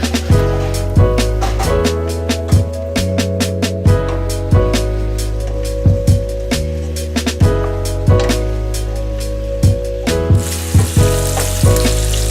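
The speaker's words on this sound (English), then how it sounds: "make sure the pan doesn't burn as the sausage is cooking" Sausage frying in a pan, a loud steady sizzle and crackle running throughout, with repeated sharp clicks and scrapes of a utensil against the pan.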